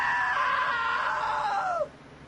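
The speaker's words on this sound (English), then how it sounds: "Now that was a great scream." A long, loud scream from the video game What Remains of Edith Finch holds steady, then bends downward and cuts off abruptly, leaving faint background noise.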